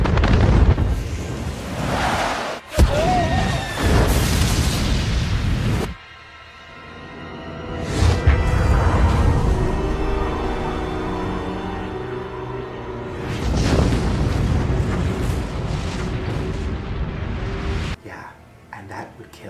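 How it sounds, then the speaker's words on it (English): Massive Yellowstone supervolcano eruption from a disaster film: loud rumbling blasts and booming explosions in repeated surges, with dramatic score and brief bursts of voices in between. "Now here's a clip from the movie 2012 where they have it explode, and it's intense."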